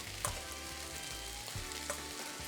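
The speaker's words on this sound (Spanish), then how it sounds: "Es el momento de agregar el huevo revuelto." Scrambled egg hits Peruvian chaufa fried rice in a hot pan, setting off a steady loud sizzle with a couple of sharper spatula knocks, and nobody speaks.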